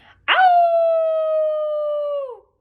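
A dog named Winn-Dixie lets out a single loud, sustained howl that rises sharply, holds a steady wailing pitch for about two seconds, then falls away and stops.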